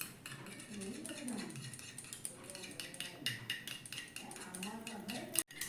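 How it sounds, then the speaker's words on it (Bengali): Yogurt is whisked in a bowl with a metal utensil for a semolina breakfast dish, making a fast, continuous clatter of clinks and scrapes throughout, close and fairly quiet. "এবার দইটাকে আমি একটু ফেটিয়ে নিব"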